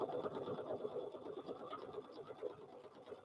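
A sewing machine stitching a fabric mug rug, a steady fast mechanical whirr and patter held close and fairly quiet throughout, with no talk.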